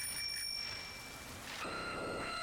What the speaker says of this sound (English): the way that you get him to come down is just by ringing the little bell